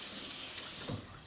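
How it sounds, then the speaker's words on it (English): Cold tap water runs from a faucet into a sink over pierogi in a colander, a steady close hiss that eases slightly near the end. "I just run some cold water on"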